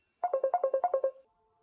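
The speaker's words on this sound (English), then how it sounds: "phone call. I have to pause this." A phone rings with an incoming call, a quick run of about nine bright, evenly spaced electronic tones, clear and close, then a faint fading tail with no talk.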